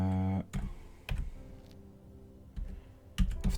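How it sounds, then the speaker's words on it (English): Scattered keystrokes on a computer keyboard, a few separate bursts of clicks with pauses between them, close and fairly clear, no talking. "have to concentrate on typing"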